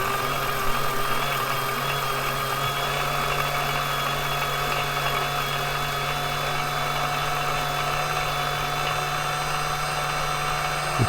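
A small motor spins a urethane tire during truing, a steady continuous whine and hum with sustained tonal lines, loud and close, running without pause and no voices.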